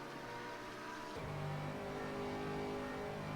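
Sports race car engines in the video game rFactor 2 at Mosport, a steady drone that drops at about one second and then climbs again through revs, close and unbroken, with no talk.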